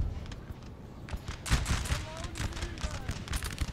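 Round-shot cannon fire in Napoleon Total War, with an Ottoman army bombarding Hungarian militia; several booming volleys and crackling musketry overlap in a busy battle din, with a strong blast near the middle.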